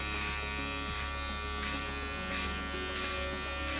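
Electric razor shaving the sides of a head during hair replacement fitting, a steady close buzzing drone throughout with slight shifts in pitch as it moves across the scalp.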